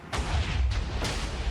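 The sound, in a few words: TNT cannon explosion in Minecraft video game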